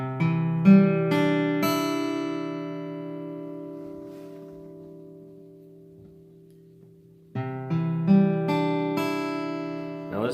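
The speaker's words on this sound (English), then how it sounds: "This is C note right there." A C note rings out on an acoustic guitar as a sustained plucked strum that slowly decays, then is strummed again, with individual strings sounding one after another in each attack.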